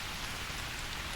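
Steady rain falls in a dense, even hiss, close and constant with no voices.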